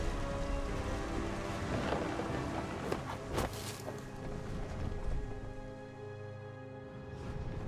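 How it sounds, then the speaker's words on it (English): Steady rain hisses in the video game What Remains of Edith Finch while deep thunder rumbles and cracks midway through, a fairly quiet but continuous storm. "Thunder sounded much too close and full of angry power."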